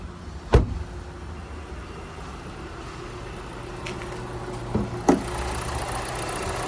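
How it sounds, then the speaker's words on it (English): A 2019 Hyundai Kona Active idles steadily under an open bonnet, a low continuous engine hum with a few sharp knocks and clunks nearby, no talking. "have a look underneath the bonnet while she's running"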